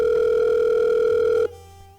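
A telephone ringing with a single loud, steady electronic tone that cuts off abruptly after about one and a half seconds, leaving a faint low hum.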